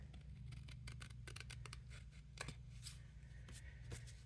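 Scissors trim cardstock for a stepper card in a run of quick, crisp snips, some clustered closely and others spaced apart, close and quiet.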